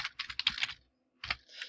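Keys clack on a computer keyboard in a quick burst of clicks, then a pause of near silence, then a few more keystrokes, all close and crisp.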